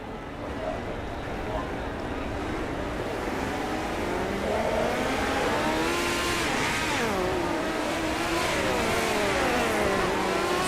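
Race cars circling the track at Weedsport in iRacing, a steady engine drone with rising and falling pitch sweeps as cars pass, continuous and fairly loud, with commentary voices over it.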